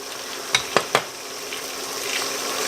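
Chilies frying in a pan while cooking sambal kemangi, a steady close sizzle with a few sharp clinks of a utensil against the pan early on.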